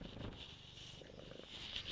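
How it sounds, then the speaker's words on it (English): A cat purrs in a faint, steady rumble that stays close and soft throughout, with no talk. "wow, that purr is ridiculous"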